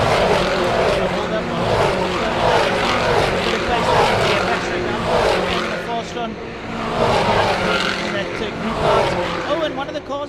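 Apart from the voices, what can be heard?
Supercars race cars driving through turn 5 at Killarney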